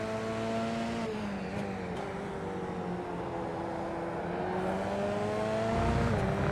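F3 race cars lapping Twin Ring Motegi's East Course in a sim racing game, a steady engine drone with rising and falling pitch through gear changes, loud and continuous with no talk.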